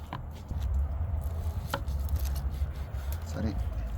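Knife slicing through smoked pork ribs just out of a smoker, a few short chopping strokes on a board over a steady low background hum, close and moderately loud.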